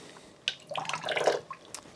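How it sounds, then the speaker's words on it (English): Water tipped out of a hollow knife handle, a brief splash and patter of drips that swells for about a second and then trails off, close by with no talk. "just dump that water out"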